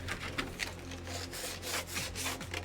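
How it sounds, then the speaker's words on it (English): Wood is rubbed down by hand with sandpaper in quick back-and-forth strokes, a close, scratchy rasping with a steady rhythm and no voices. "We're just going to do that with the sandpaper."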